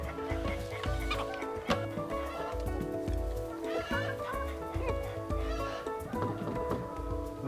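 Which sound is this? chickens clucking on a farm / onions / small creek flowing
chickens clucking on a farm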